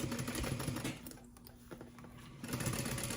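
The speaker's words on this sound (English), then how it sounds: "when you're stitching those side seams" A sewing machine runs close by, stitching the side seams of a convertible tote bag with a D-ring. The motor whirs steadily and eases off briefly in the middle before picking back up to full speed, and nobody speaks.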